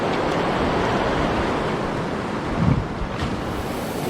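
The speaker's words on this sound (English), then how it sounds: "Really nasty recirculating water over here." River water churning and recirculating in a backflow, a broad continuous roar mixed with wind buffeting the microphone, with a brief louder surge near the end.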